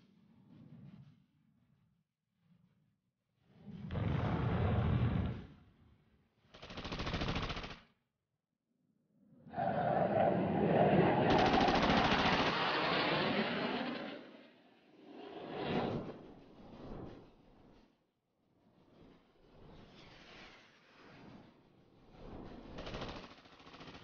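Machine gun fire from Egyptian fighter aircraft strafing two slow Israeli paratrooper transport planes over Sinai, heard as several loud, separate bursts of rapid firing with brief gaps between them, and no talking.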